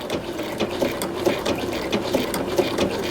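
A Bernina B790 Pro sewing machine stitching applique, with a fairly close, regular mechanical ticking and whir at a slow, even pace, with no talk.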